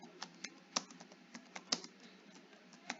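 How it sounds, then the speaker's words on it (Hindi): Hindi being typed on a computer keyboard, with quick irregular key clicks and a few sharper, louder strokes, close and fairly quiet with no talking. "तो मैं ये आपको टाइप करके दिखा रहा हूं"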